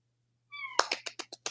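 A house cat lets out a short, bright meow, then a quick run of raspy, clipped chirps, close to the mic over a faint low hum.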